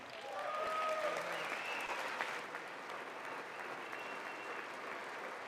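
Members of the U.S. Congress applaud during a State of the Union address in the House chamber, a broad, reverberant round of clapping swelling early, then settling into steadier applause with faint voices underneath.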